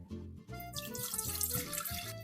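Filtered water pouring steadily into a container for a pineapple-peel drink, a continuous splashing stream with a rising, filling tone after a brief pause at the start, no talk.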